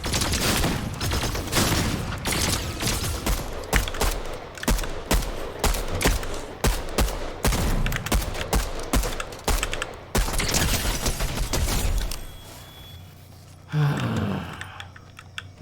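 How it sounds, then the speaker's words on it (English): Rapid bursts of gunfire in Fortnite, shotgun blasts among them, crackling in dense repeated volleys for about twelve seconds before dropping to quieter clatter, loud and close. "That's a flippy shotgun."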